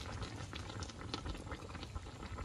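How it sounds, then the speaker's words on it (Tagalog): Fish soup seasoned with salt bubbles at a steady rolling boil, a dense, soft, continuous gurgle with no talking. "Pakuluan natin ng pakuluan para magkalat yung asin dyan sa isda."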